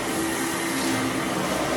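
A household vacuum cleaner drones continuously at close range, a loud, unbroken whooshing hum with a faint whine on top.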